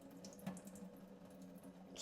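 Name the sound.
water filling a Tupperware of frozen broccoli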